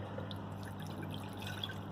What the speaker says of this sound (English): Now, in a pot, you will add your water.